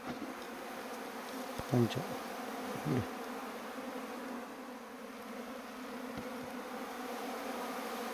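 Honey bees buzz steadily around a hive box during honey harvesting, a dense continuous hum close by, with a couple of brief knocks and a faint word spoken partway through.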